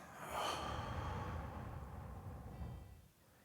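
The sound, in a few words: exhaling during a meditation breathing exercise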